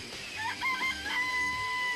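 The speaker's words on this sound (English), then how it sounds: "I remember there were some chickens in the chicken coop." Chickens in a coop in the Danganronpa video game, crowing and clucking in a short burst of high calls over a steady background tone, moderately loud and close.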